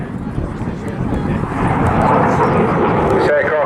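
A Eurofighter Typhoon FGR4 jet passes at an airshow, a loud, broad roaring rush that swells toward the end, with a voice talking over it.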